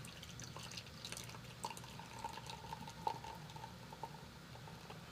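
Liquid poured over the top of a layer trickles and drips softly for several seconds, with small splashes and a faint ringing tone, close and quiet with no talking.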